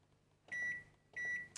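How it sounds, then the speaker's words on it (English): A microwave oven beeps twice as it is set to medium heat, two clean evenly spaced tones with a faint click at the end and no talking. "Put medium heat on your microwave."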